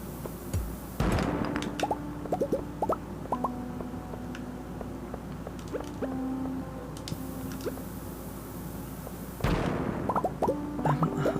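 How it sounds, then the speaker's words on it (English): Bombs explode in a video game with two heavy booming blasts, one near the start and one near the end, while scattered pops, plinks and tonal game effects fill the quieter stretch between. "I'm not immune to bombs."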